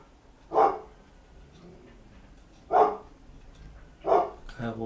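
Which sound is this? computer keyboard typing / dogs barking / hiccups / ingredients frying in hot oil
dogs barking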